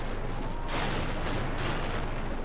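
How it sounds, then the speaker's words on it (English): A loud artillery shell slams into an E-100 tank in World of Tanks, a broad booming crash over constant battle rumble, followed by a second heavy impact swell. "Just got shot at by the artillery."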